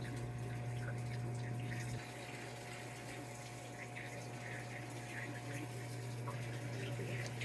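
A Samsung washing machine filling with water, a steady hum and hiss of inflowing water with a low drone that drops slightly partway through, quiet and continuous.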